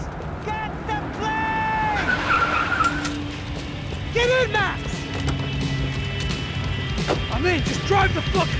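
A car in the Max Payne 3 video game drives hard and skids, with tire squeals and engine noise running throughout, while voices shout over it during an action cut-scene.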